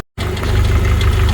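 A 1992 Jeep YJ 2.5-liter five-speed engine idles close up after running for half an hour, a steady low rumble with a rhythmic mechanical pulse and light ticking, starting abruptly after a brief silence.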